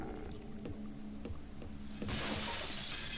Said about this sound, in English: Holy shit, the glass broke.